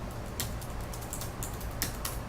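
Keys clatter in a fast, uneven run of soft clicks on a computer keyboard while a Windows run command is typed, close and fairly quiet, with no voices.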